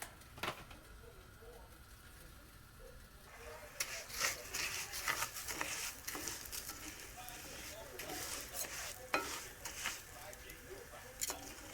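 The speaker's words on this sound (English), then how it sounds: "Now I'm gonna fry some jasmine." Jasmine rice frying and being stirred in an Instant Pot on medium heat, a soft scraping and pattering rustle that starts faint and grows busier, with intermittent louder stirring strokes.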